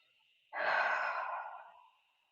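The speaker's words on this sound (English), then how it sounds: "take a deep breath" One long, deep breath drawn in and let out slowly as a soft airy sigh, close and quiet, lasting about a second and a half against a faint hiss.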